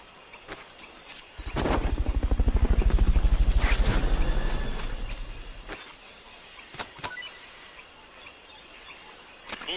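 A loud, low helicopter rotor thumping in Metal Gear Solid: Peace Walker swells in over a couple of seconds, peaks, then fades away, with scattered faint clicks and taps around it.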